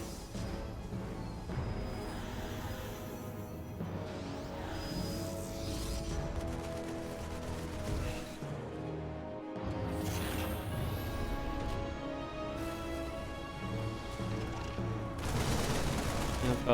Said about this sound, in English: a couple of siege tank shots going off onto the Stalkers